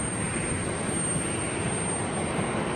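Jet aircraft at an airport, a steady broadband engine roar with a thin high whine on top, loud and unbroken throughout with no voices.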